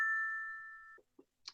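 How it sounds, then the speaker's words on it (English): A Slack notification ding chimes once, bright and clear, ringing out and fading over about a second before a few faint soft knocks and a short rustle follow. "Well, I sure still got a notification there, didn't I?"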